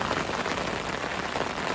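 Heavy rain pours down steadily during an autumn carp fishing session, a dense, unbroken hiss of drops drumming on surfaces close by, loud and constant with no voices.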